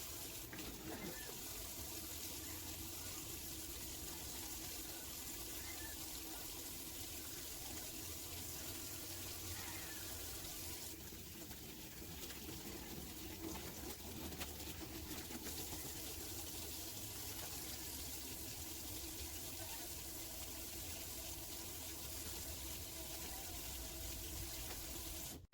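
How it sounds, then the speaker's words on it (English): Tap water runs steadily from a faucet for hand washing before a medical procedure during a vital signs check, a continuous close splashing hiss with faint speech in the background. "Before any medical procedure, it is very important to perform hand washing to prevent the contamination of germs"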